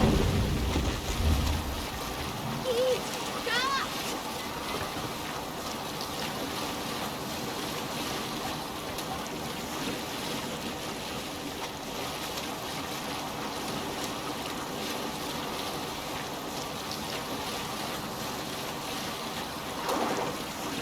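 A Viking sailing boat moves across water in Assassin's Creed Valhalla, a steady wash of waves and wind with a stormy, rain-like hiss, opening with a low rumble and holding a continuous rushing bed.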